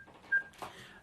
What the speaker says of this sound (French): on a un appel qui est en train d'arriver